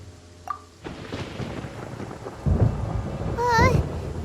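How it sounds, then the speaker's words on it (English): Thunder rolls through a stormy scene in Genshin Impact, a low rumbling swell that builds and grows louder toward the end, with a brief sharp accent early on and a rising whine near the close. "Paimon hears thunder!"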